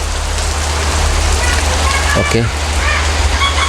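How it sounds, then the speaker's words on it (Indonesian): Heavy rain pours down steadily outdoors where a stove is being burned and cleaned. The loud, constant hiss runs throughout, with a person talking over it. "Nah hujannya lumayan deras ini teman-teman ya"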